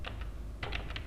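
A computer keyboard is typed on up close, a few sharp, separate keystrokes with a short pause between the first pair and a quicker cluster of clicks afterward.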